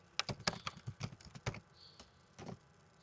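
Close clicking of keys on a computer keyboard, a quick burst of several taps ending in a firmer Enter press, then a pause and a couple more isolated keystrokes.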